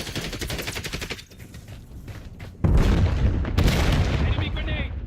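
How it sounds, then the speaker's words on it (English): An enemy grenade explodes in Call of Duty with a sudden loud, heavy boom. Rapid gunfire comes before it, and a dense rumble of battle continues afterward. "Enemy grenade."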